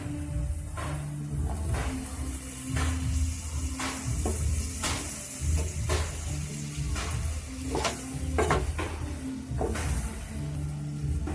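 Potatoes tossed into a pan of sizzling spiced masala, steady frying hiss with repeated scraping and clattering strokes of a spatula against the pan, close and moderately loud.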